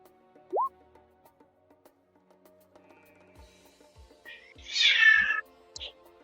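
Pet cats, one a kitten, fighting: a short rising meow, then a louder, strained yowling burst with a brief cry after it, moderately close, with no talking.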